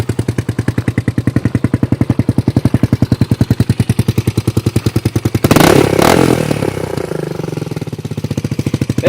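A Suzuki DR200SE supermoto motorcycle engine runs close by with a loud, rapid, even single-cylinder idle pulse, briefly interrupted by a rough clattering burst midway before the steady thumping resumes.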